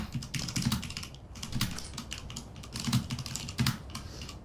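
Steady, rapid typing on a computer keyboard, heard close up as dense clusters of key clacks with brief pauses between bursts.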